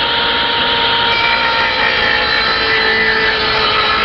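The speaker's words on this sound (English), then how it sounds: "turn on the motor" A motor runs with a steady, loud, unbroken whirring drone that holds at the same level throughout, no voices over it.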